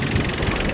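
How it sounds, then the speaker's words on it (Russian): A Yanmar AF170 three-cylinder mini tractor idles smoothly, giving a steady, close, even engine rumble with a faint regular pulse and no other sound. "Как я уже говорил, 3-цилиндровый трактор. Работает ровно"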